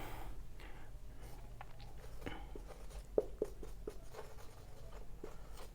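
Marker or chalk writing out a non-homogeneous system of linear equations on a board, soft scratchy strokes in short irregular bursts with a few sharper taps, fairly faint over a steady low room hum.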